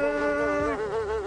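A human voice imitates a buzzing fly with a sustained nasal hum that wavers and wobbles in pitch, close and fairly loud, with nothing else heard.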